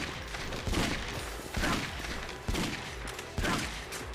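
Rapid gunfire while shooting at a boss in the video game Yakuza Dead Souls, dense continuous bursts of shots with sharper volleys recurring about every second, loud and up close.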